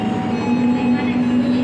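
Argo Dwipangga passenger train departing on the Jakarta–Solo line, a steady loud rumble with a sustained low hum and rolling mechanical noise, heard close from on board.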